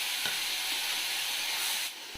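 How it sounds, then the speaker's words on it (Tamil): Chopped tomatoes with onions and ginger-garlic paste sauté in a pan, giving a steady, moderately quiet sizzling hiss with a few faint clinks, the sound dropping slightly near the end. "இப்போ தக்காளி நம்மளுக்கு நல்லா வதங்கணும்"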